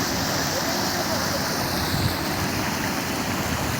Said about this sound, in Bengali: আপনারা নিশ্চয়ই জলের স্রোতের আওয়াজটা পাচ্ছেন।